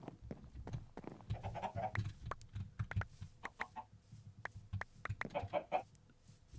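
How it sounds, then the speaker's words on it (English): An iron chicken in the Minecraft Sky Factory game clucks repeatedly in short, fairly quiet bursts over soft background game sounds. "Ooh, iron chicken."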